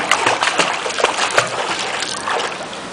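Small child kicking and splashing while swimming toward a pool ladder, a string of close, bursty splashes and sloshes of water.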